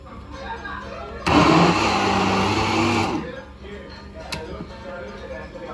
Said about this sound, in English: I added some crayfish and some pepper to the sauce and I grinded it again